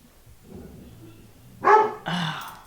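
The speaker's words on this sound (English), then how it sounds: "So my dog is barking like crazy" A female dog barks twice indoors, loud and close, sharp bursts after a quiet rumble of background sound.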